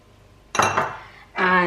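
Whole spices tossed into a cooking pot for lamb kheema biryani, two short bursts of rattling clatter against metal, close by, with a quiet gap between them.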